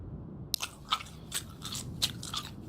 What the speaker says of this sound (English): Definitely sounds like you're chewing gum